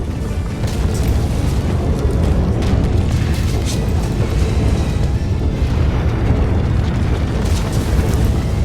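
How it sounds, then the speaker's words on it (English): A bomb goes off in the Broken Sword 3: The Sleeping Dragon video game, a loud sustained rumbling blast that roars steadily for several seconds with low crackling debris. "Bomb! Get down!"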